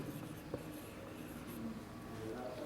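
Chalk or marker strokes on a classroom board during an English grammar lesson, a faint continuous scratching with a brief louder tap, set against room noise and the teacher's nearby voice.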